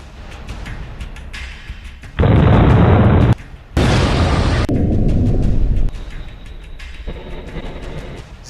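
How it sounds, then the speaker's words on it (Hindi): A Hellfire missile explosion arrives as a series of loud, heavy blasts: a booming burst, a brief drop, then a second roaring blast that fades into a lower rumble, with no voices. "ज़ेलेंस्की के हथियारों के जखीरे में अब हेलफायर मिसाइल भी शामिल होने जा रही है।"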